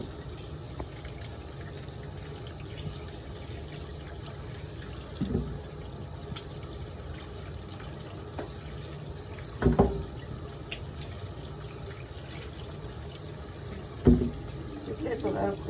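Tap water runs steadily while fresh okra is washed for pickling, a continuous splashing hiss with a few sharper knocks and clatters of handling in the sink.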